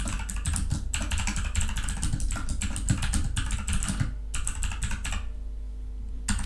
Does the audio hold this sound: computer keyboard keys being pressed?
yes